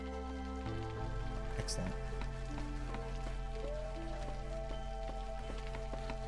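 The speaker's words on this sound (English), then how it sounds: "Everybody's just standing out in the rain." Rain falling in the video game Against the Storm, a continuous patter of drops on surfaces beneath steady game music and tones, with a person briefly talking.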